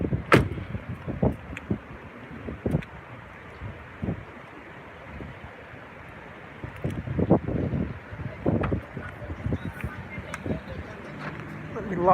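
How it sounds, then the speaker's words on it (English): Strong wind blowing outdoors at Myrtle Beach, rumbling in broadband gusts against the microphone and rising and falling over several seconds, with bumps and knocks mixed in and someone speaking now and then. "Oh, that wind's ripping though."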